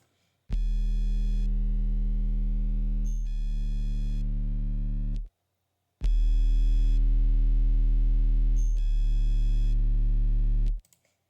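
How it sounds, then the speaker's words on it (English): Two long, deep synth bass notes for drum and bass, around D sharp, each held several seconds with a brief shift midway, separated by a short silence; clean and loud. "this is what the bass sounds like without any of the other layers"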